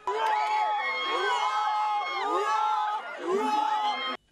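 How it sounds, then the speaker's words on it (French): A crowd of students at a high school, gathered for baccalaureate exam results, lets out loud joyful screams and whoops mixed with crying, rising and falling in excited bursts close by. "Des cris de joie mêlés à des pleurs."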